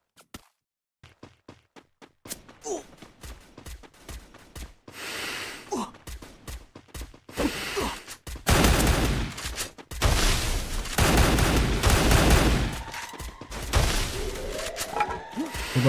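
Bursts of MP5 submachine-gun fire in a Free Fire battle-royale esports match, loud and dense in the second half, with scattered sharp shots and effects leading up to a sustained rattling volley.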